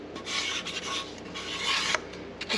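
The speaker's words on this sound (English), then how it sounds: "Scrape every last bit" A spoon scrapes the last Japanese curry from a container, a close and steady run of raspy strokes repeated without pause and heard alone.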